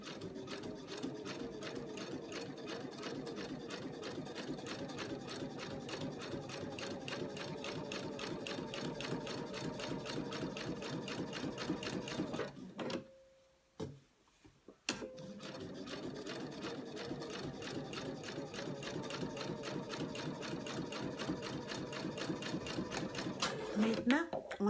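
A sewing machine stitches small fabric pockets for a holiday calendar, running with a steady rapid whirring rattle that pauses briefly about halfway through and then resumes. A voice speaks over the machine.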